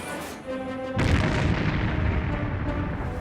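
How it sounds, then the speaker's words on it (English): Shots strike the ore-laden ship SS Munich in a wartime convoy attack: a tonal hum gives way to a sudden loud deep boom that rolls on as a heavy rumble. "SS Munich is the first hit."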